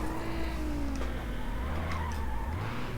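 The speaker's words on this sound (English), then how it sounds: "I swear I just touched the brake and it spun out" Car in the NFS Underground racing game spinning out after a light brake touch, tires squealing and skidding over a steady engine drone for about three seconds, loud and continuous, with no talking.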